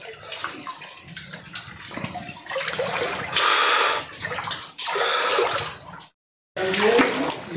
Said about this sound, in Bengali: উপর থেকে জল পড়ছে দেখুন